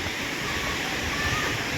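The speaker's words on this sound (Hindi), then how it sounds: "यहाँ का पानी बहुत खतरनाक गिर रहा है" Water pours down at a lake in Chandigarh, Punjab, in a loud, constant roar of rushing white noise with no pauses, close and enveloping for the whole moment.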